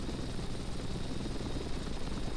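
A helicopter in a flight simulator game gives a steady, dense rotor and engine roar, even and unbroken throughout, moderately quiet with no talking.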